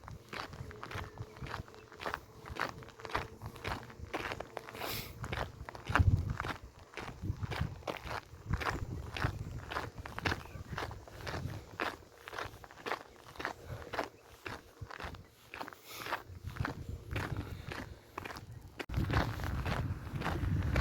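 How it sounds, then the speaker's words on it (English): Footsteps walking along a canal path in the Dutch town of Dedemsvaart, a steady close rhythm of even steps over soft outdoor background noise, with no talk. "let's listen to my footsteps for several more seconds"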